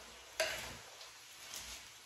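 Egg roll in a bowl mixture stirred in a pan, a sharp scrape of the spoon followed by soft, quiet stirring and faint sizzle, fairly close.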